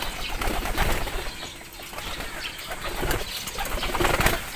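A pigeon flapping its wings in flight, with repeated bursts of close, loud wingbeats in uneven rhythm and brief lulls between them.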